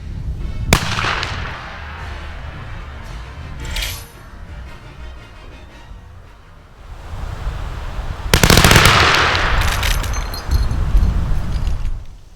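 Sharp, loud shots from an ICI Martini-Henry cavalry carbine firing a 62.5 grain load, a few isolated reports spaced seconds apart, each cracking and ringing out over an outdoor range with no talking.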